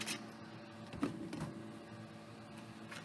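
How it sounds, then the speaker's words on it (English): A home printer runs off to the side while printing, giving a faint, steady mechanical whir with small shifts in pitch and no talking over it. "You excuse my printer off to the side. It's doing some printing for me."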